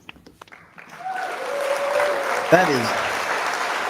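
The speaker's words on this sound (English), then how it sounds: "let's get a round of applause for that" Audience applause during a live Q&A about long-mileage testosterone use rises after a brief spoken word and carries on steadily as a broad clapping wash, with voices faintly audible over it.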